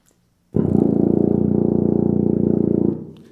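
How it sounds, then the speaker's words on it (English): A single very low tuba note, pedal B flat, sounds suddenly and holds steady for a couple of seconds, buzzy and wide, then fades out. Nobody talks. "that's this note that we haven't played yet called the pedal B flat"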